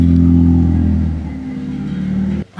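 A car engine revs steadily and loudly at close range with a low droning hum, easing slightly before cutting off abruptly near the end; no talk over it.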